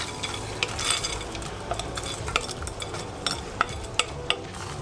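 Frozen seafood is stirred into a sizzling paella pan holding chorizo and onions, with a steady faint sizzle and a few sharp utensil scrapes and clinks against the metal, close by.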